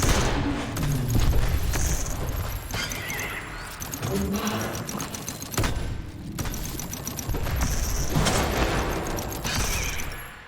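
Artillery dome firing in Dome Keeper, heavy bursts of shots mixed with game effects and a bright tonal ringing, loud and sustained, with pauses between volleys.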